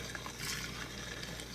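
Liquid pours steadily down a fork into a flask at home for a brewing yeast starter, a continuous close trickling wash lasting the whole moment with no talk over it.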